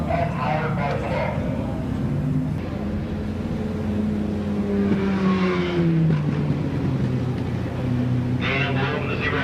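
Sports cars racing at Midvale Speedway, engines droning and rising in pitch as cars pass close, with a loudspeaker announcer talking over the steady racing noise.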